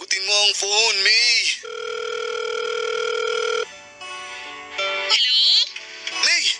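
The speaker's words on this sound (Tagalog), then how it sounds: "Sagutin mo ang phone, May." A telephone rings with a steady electronic tone for a couple of seconds, then softer pulsing tones follow, with a voice speaking before and after the ringing.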